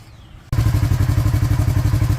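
A Kawasaki KRX 1000 side-by-side engine starts up after an oil change and idles with a loud, close, rhythmic chugging pulse, no talk over it.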